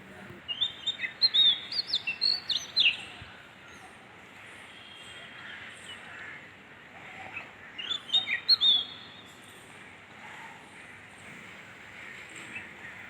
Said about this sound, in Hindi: oriental magpie robin